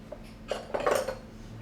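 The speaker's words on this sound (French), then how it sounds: "Le filet, plusieurs techniques pour le couper. Une assez simple, c'est le ciseau à bois." A wood chisel cuts a strip, making a brief close scrape with a couple of quick metallic clicks and a rasping slice that lasts under a second against a quiet room hum.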